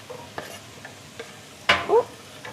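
Carrots tipped into a pan of soft leeks, a few scattered light taps and clatters over a faint sizzle, then a louder rustling scrape as the vegetables land and are stirred, close and quiet.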